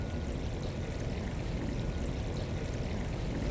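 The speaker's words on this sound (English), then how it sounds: "The water in this fountain is contained in a piece of art." Water flowing steadily in a campus fountain set into a piece of art, a continuous close splashing rush with no pauses or voices.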